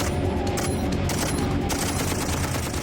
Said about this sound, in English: So they turn to the squad's M60 heavy machine gun.